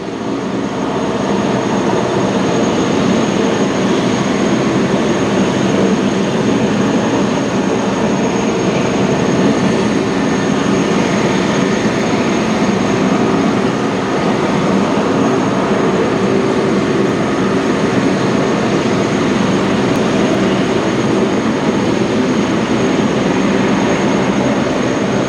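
Vintage Spitfire and Hurricane warbirds backtrack on runway 09 at Ottawa Gatineau Executive Airport on Canada Day, their piston engines making a steady, loud, unbroken rumble throughout with no talk.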